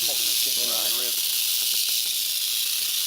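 A big rattlesnake gives a continuous loud, hissing rattle that stays steady throughout, while someone talks briefly over it near the start.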